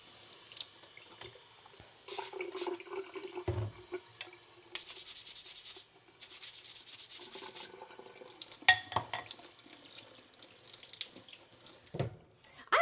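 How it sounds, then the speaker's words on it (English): A kitchen tap runs into a sink in steady bursts while something is rinsed under it, with splashing, rubbing and clatter between the flows, fairly close and alone. "Let me rinse this."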